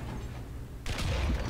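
One sharp cannon shot from an American M2A4 light tank in War Thunder cracks out abruptly after a low rumbling hum, leaving a booming tail.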